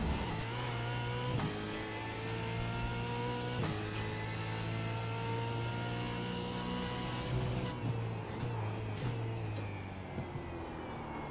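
A Ford Mustang supercar in the iRacing sim roars through the gears, with a sustained engine drone and pitch rises between upshifts, then tone drops under braking near the end, loud and continuous.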